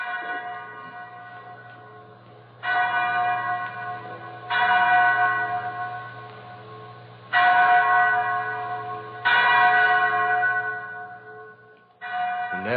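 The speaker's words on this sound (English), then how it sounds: "Mary, that's the chapel bell." A single chapel bell tolls slowly and repeatedly, each loud strike ringing out and fading before the next, with a low steady hum underneath.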